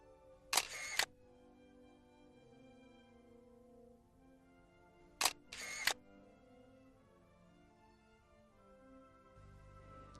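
A single-lens reflex camera fires its shutter twice, each a crisp paired click of mirror and curtain separated by a brief pause, close and distinct over quiet room tone.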